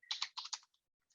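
Quick bursts of clicking keys on a computer keyboard while entering text into an Excel spreadsheet, three short close clusters of taps followed by a couple of faint isolated clicks.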